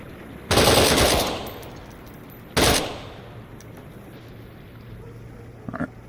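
Gunfire in the tactical shooter Door Kickers 2, two loud, sustained bursts of rapid automatic fire around one and three seconds, each decaying into a hissy tail, with a faint short crackle near the end.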